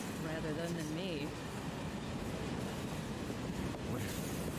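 A train ride in Final Fantasy VII Remake, heard as a steady, dense rumble of wheels and carriage noise with faint rattles, while voices talk over it.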